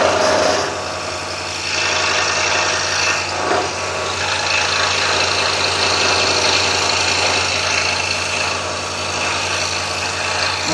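A scroll saw blade cuts through a wooden piece as it is turned into a corner, a steady loud motor hum with a buzzing, rasping texture that runs throughout with slight dips.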